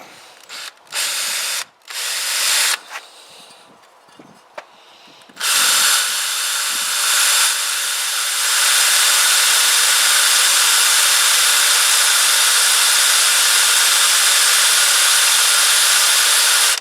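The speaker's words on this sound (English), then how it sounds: "For new drills, they ain't cutting very well." Power drill boring holes while fitting accessories to a Keeway RKV125 motorcycle, with a few short stop-start bursts followed by a long, steady, loud run of the bit cutting through.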